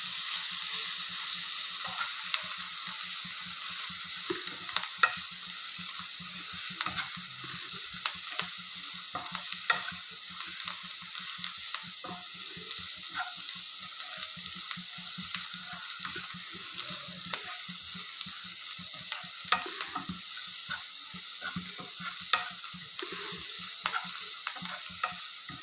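Spices with salt sizzling and being stirred in a frying pan, a steady bright hiss broken by frequent light scraping clicks of the spoon, continuous throughout with no talking.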